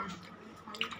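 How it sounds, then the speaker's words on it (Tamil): Raw chicken pieces washed by hand in water, brief close sloshing and dripping splashes with a small splash near the end, moderately quiet, over about a second. "நசுக்கி அமுக்கி இது பண்ணுறோம், நல்லா கழுவுறோம்."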